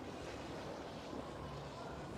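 Water sloshing in a wave pool where a large ball churns up the waves, a continuous rushing wash of surf mixed with wind noise, fairly loud and steady, with no clear speech.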